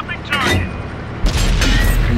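Tank main gun firing in World of Tanks on PS4: two heavy booming blasts about a second apart, the second louder, over a continuous rumbling game background with talk.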